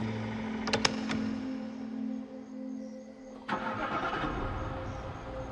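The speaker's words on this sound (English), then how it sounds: "Diana starts up her car to head to her job as an overnight caregiver" A car engine cranks with a couple of sharp clicks, then catches and settles into a steady idle, heard close by with a constant hum in the background.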